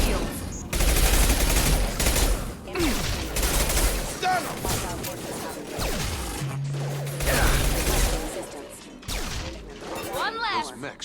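Gunfire rattles through a shootout in Mass Effect 2, with bursts of shots, impacts and crashes spread irregularly across the scene, loud and close, mixed with shouted voices and game effects.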